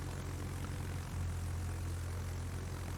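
Rocket planes in World of Warships fly past with a steady, droning propeller-engine hum that swells slightly louder partway through, a continuous low rumble with no talk.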